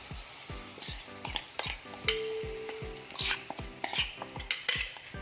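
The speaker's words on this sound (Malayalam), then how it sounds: "അത് നന്നായിട്ട് ചൂടാകുമ്പോൾ നമ്മുടെ ഈ സേമിയ ഡേയ്സ് കൂട്ട് ഇതിലോട്ടേക്ക് ആഡ് ചെയ്ത് കൊടുക്കാം." Semiya and dates batter poured into a pan of hot ghee, with a steady sizzle and repeated scraping, stirring strokes of a utensil against the pan, close and clear, with no voices.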